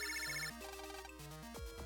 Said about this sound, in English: the water heater alarm is ringing